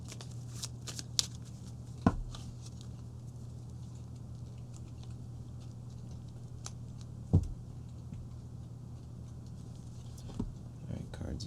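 Tarot cards being shuffled by hand, a soft continuous papery patter with a few sharper snaps and taps, close and quiet over a steady low hum.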